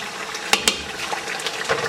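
Chicken tikka with its masala hits hot oil in a karahi and sizzles close up. A bubbling, crackling hiss runs throughout, with a couple of sharper pops and spoon clinks early on.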